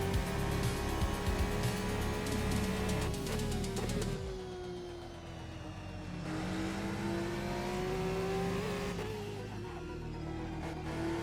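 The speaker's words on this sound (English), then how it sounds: "The Ferrari sounds so good." A Ferrari hypercar in a racing video game, its engine revving high and shifting through gears, the pitch climbing, dropping at a shift, then rising again, loud and continuous.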